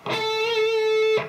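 A single sustained electric guitar note at the third string's fourteenth fret, ringing steadily for about a second with a slight waver, close and alone.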